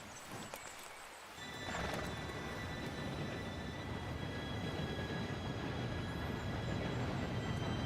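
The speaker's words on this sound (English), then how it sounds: "Train should be here any minute now." A steam train pulls in within the Red Dead Redemption 2 video game, a dense rising rumble of wheels and rolling cars that swells in and stays loud and steady, with thin high tonal squeals over the roar.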